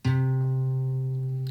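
A single low guitar A string plucked once with the thumb, ringing out clearly and sustaining with a slow fade.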